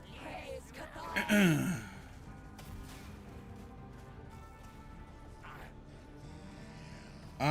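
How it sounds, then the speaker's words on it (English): A tired person's drawn-out yawn late in a long video game grinding session, a breathy rising-falling exhale up close, followed by a quieter stretch of background hum. "I'm starting to yawn more and more."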